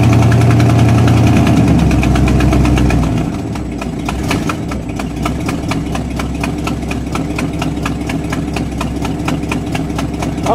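A misfiring Buick engine runs at a loud, steady fast idle with a continuous rhythmic pulse that drops slightly in pitch and level after a few seconds and then settles at a constant hum.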